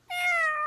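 A single drawn-out cat meow, close and clear, rising then sliding slightly down, staged as a radio drama sound effect with nothing else over it.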